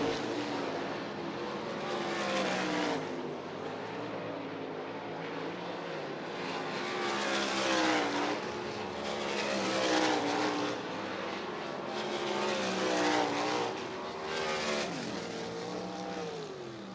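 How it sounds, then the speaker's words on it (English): Race cars running hot laps on the Eldora Speedway dirt oval, a steady loud engine roar with rising and falling pitch as cars pass and rev, several swells across the stretch with no talking. "The drivers on track again for Dirt Drive Hot Lap session number 1."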